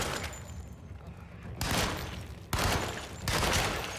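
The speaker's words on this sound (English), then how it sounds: "Okay, Tommy gun action." Tommy gun firing in a horror video game, three loud sustained bursts of rapid automatic fire, each starting abruptly, the last ones louder, with no talking.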